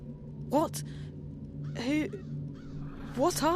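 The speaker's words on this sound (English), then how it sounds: "I'm a bird. Crow's the name." A crow caws in Dreamfall: The Longest Journey, three harsh, nasal calls spaced a second or so apart, close and clear over a low steady hum.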